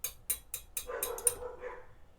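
Dogs bark in a quick series of sharp yaps, then a busier stretch of overlapping barks and whimpers, heard fairly faint and alone in an indoor room.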